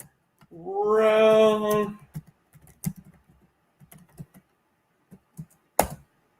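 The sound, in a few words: typing on a computer keyboard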